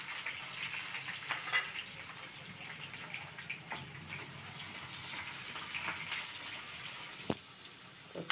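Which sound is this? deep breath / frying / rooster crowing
frying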